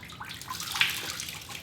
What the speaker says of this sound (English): you're gonna just squeeze most of it out so it's not dripping wet